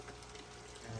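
Steady rushing, splashing water flow from an overhead filter on a koi aquarium, a continuous close wash of sound with no voices.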